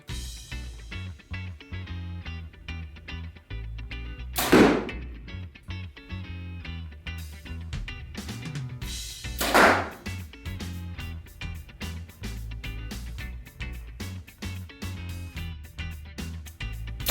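Obsession Final Pro X compound bow from 2018 firing arrows, two sharp, loud snaps several seconds apart set against a steady rhythmic musical background.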